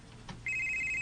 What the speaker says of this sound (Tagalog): Uy, may bagting pagbalik akong cellphone.